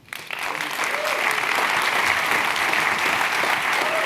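An audience at a Stanford business school forum breaks into applause to welcome a speaker, a dense, steady wash of clapping that swells quickly and holds, loud and close, with no talking.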